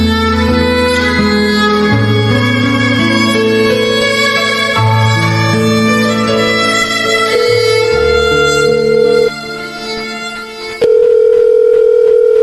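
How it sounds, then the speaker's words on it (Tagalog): Electronic cellphone tones play in a radio drama, a steady series of pitched beeps that shift from note to note, loud and alone, ending in a sustained tone. "Kanina ka pa dial dyan sa cellphone mo."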